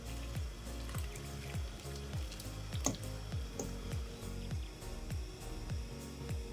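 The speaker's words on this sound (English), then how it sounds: "But it will start to rapidly boil again." A pot of pasta water returns to a rapid boil on a home stove, giving a quiet, steady bubbling and popping with a soft, regular churn throughout.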